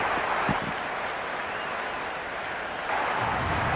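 A stadium crowd in the Cricket 26 cricket video game keeps up a steady, fairly loud roar of cheering and applause, with a brief lull midway.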